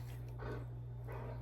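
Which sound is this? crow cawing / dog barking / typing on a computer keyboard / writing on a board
dog barking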